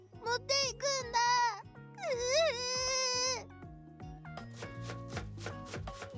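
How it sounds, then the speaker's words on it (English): A knife chops an onion in a cartoon cooking game, with brisk rhythmic taps over chiming game music, following a stretch of high, childlike voiced sounds. "Okayu continues chopping the onion with tears in her eyes."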